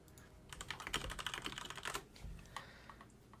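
Computer keyboards clack at an attendee registration area, with quick bursts of keystrokes and irregular pauses, fairly faint and close, with no talking.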